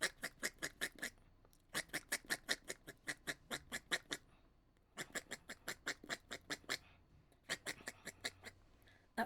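A person's voice imitates a duck, giving rapid bursts of nasal quacks in several rhythmic runs separated by short pauses, close and fairly faint with no other talk.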